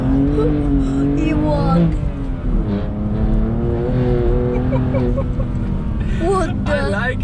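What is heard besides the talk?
BMW M2 Competition with new carbon fiber exhaust driving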